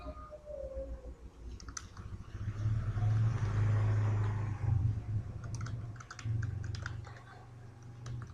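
Steady typing of C code on a computer keyboard, a run of soft clustered key clicks over a low hum, louder in the middle stretch and thinning toward the end.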